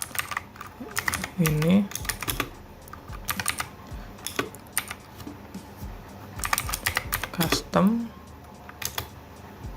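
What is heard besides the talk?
typing a comment on a computer keyboard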